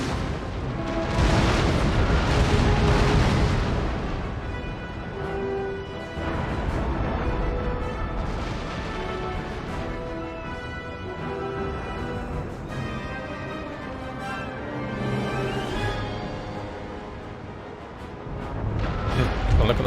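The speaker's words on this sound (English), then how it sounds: "Alright, time to fire away, boys. Blow the crap out of that sloop." Ship cannons firing broadsides at a sloop in the naval battle game Empire: Total War, deep booming blasts rolling one after another over a musical score, loud and dense with overlapping explosions.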